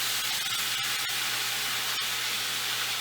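Paleo meatballs frying in a pan over medium-high heat, giving off a steady, close sizzle and hiss with a few faint pops and no talking.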